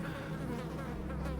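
Flies buzz around sun-baked corpses on a World War II battlefield, a dense close droning hum of many insects, steady and uninterrupted.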